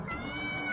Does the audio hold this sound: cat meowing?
yes